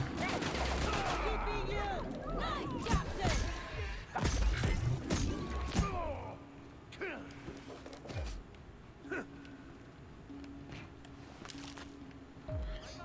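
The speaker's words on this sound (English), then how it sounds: "That rapid fire did a number on me." Rapid gunfire from combat in The Outer Worlds: loud, dense bursts of shots crowd the first half, then give way to sparser impacts over a steady low hum.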